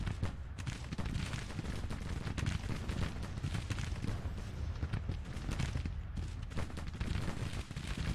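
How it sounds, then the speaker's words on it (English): Mississippi rifles fire in the Civil War strategy game Grand Tactician, a dense, continuous crackle of musketry volleys with low booms rolling underneath for the whole stretch. "their Mississippi rifles are in range"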